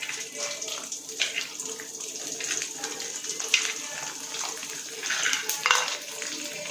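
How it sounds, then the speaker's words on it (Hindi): Chakli pieces dropped into hot rice bran oil, bubbling and sizzling steadily with faint clinks of utensils in the background. "तो हम डालते हैं राइस ब्रान के अंदर जो चकली,"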